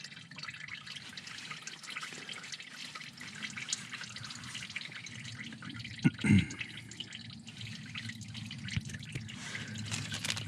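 Engine oil dribbles from the drain of a 2011 Subaru Outback 2.5i Limited with an EJ253 engine, a faint continuous trickle with light drips and one brief louder splash, no talking.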